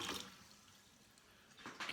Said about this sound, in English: that's a little bit of warm water in my little cup